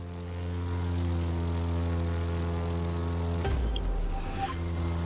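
Propeller plane engine drone in The Crew 2 while air drifting on rudder, a steady harmonic hum with a rougher roar change partway through, loud and close, no talk.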